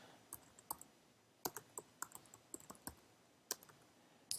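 Keys clatter on a computer keyboard as a description is typed, quiet irregular clicks in short bursts with small pauses between them, no voices.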